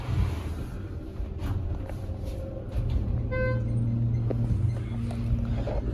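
An elevator motor at Cyra Center in Philadelphia hums low and steady under faint ambient noise, with a short electronic chime partway through.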